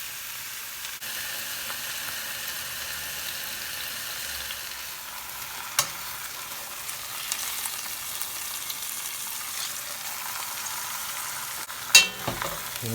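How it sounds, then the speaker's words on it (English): Brisket pieces fry in pretty hot oil for corned beef, giving a steady, close sizzle that runs the whole time, with a few louder pops and crackles near the end. "So I have oil, pretty hot. Take the brisket and right in."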